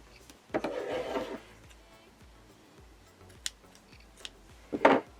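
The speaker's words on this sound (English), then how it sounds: "cut the yarn" Scissors cut crochet yarn in a few crisp snips, with a longer rasping cut near the start and another sharp burst near the end. Quieter clicks and handling noises fall in between, and no one speaks.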